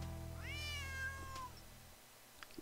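A cat in a Nancy Drew mystery game lets out a single drawn-out meow that rises and then falls, fairly faint over a low steady background hum.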